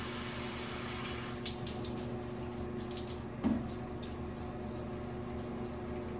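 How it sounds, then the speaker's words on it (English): Water runs from a tap to fill a small cup during hair washing, a steady faint stream with a couple of soft splashes and knocks, alone without talking. "So I'm just filling up my little cup"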